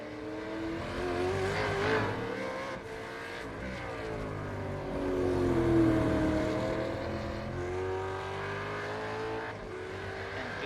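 Supercars racing round at Oran Park Raceway in iRacing, engines droning and rising and falling in pitch as cars pass and accelerate, with no voices over the engine noise.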